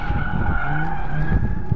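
A drift car with changed suspension but unchanged power runs continuously, loud and close, its engine droning steadily while the tyres squeal and skid without a break.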